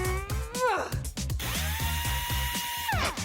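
A power drill drives screws while a bunk bed is being built, its whine revving up and sweeping down in pitch over a steady rhythmic background beat.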